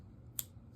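A single quiet snip of scissors cutting yarn, brief and close, over a soft background hum with no talk.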